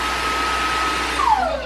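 A Mooka S200 wet-dry vacuum mop runs with a steady loud whooshing motor and a thin whine, and the pitch drops near the end as it powers down.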